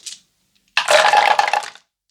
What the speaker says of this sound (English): Now we have to throw 8 dice.